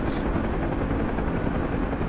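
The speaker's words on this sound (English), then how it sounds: "There's a lot going on when you're flying helicopters." A helicopter flies in the combat flight simulator DCS World, a dense, loud, continuous rotor and engine roar that stays steady throughout, with a brief hiss at the very start.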